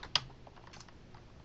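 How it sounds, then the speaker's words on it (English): Typing on a computer keyboard: a few faint, scattered key clicks with one sharper tap near the start, in an otherwise quiet room. "I can type feedback to the learner here"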